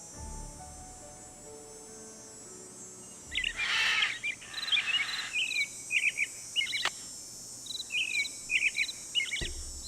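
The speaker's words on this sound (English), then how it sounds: "some of these birds are not birds with calls that we have recognized" Birds call at Moon Lake in the Nancy Drew video game, a rough chattering burst followed by a string of short high chirps repeating at irregular intervals over a steady insect-like hiss.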